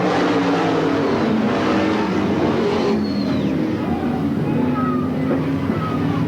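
Race cars roar around the oval at Sandusky Speedway in 1985, a loud, continuous engine drone with rising and falling whines as cars sweep past close by.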